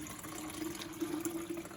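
Water runs steadily from a sink tap into a Brita filter pitcher, a continuous close-up splashing hiss with a faint steady hum beneath.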